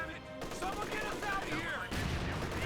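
Several Bren light machine guns fire together in Company of Heroes 2, a sustained rattle of automatic bursts in a wartime battle, with voices speaking over the gunfire.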